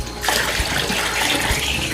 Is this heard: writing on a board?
no